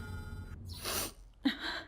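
A short, sharp sneeze bursts out near the end, standing apart after a stretch of quiet room noise and a breathy hiss, close and fairly loud.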